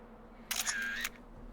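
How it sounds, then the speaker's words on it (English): A single old-fashioned camera shutter click in the video game Xenoblade Chronicles: Definitive Edition, crisp and close, standing alone over a faint steady background hum. "That old-timey shutter click."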